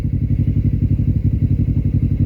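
A Harley motorcycle engine runs loud and close, with a steady, lumpy low thumping pulse repeating evenly and no voices over it.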